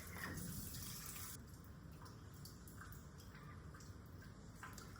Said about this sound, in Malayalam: നമുക്കിതൊന്ന് കഴുകി വൃത്തിയാക്കണം.